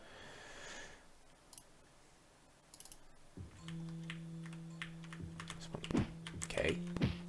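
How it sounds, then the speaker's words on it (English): Typing on a computer keyboard with hands spread across the keys, producing a steady run of clicks that builds after a quiet start, with some tonal background sound and occasional louder taps near the end. "Hands all over the keyboard doing this."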